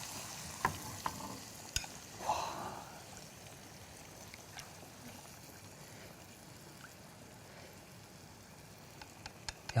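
Curry being added and stirred in a frying pan with green pepper, beans and corn: a soft, steady sizzle with occasional faint scrapes and clicks, quiet and continuous, with no talking.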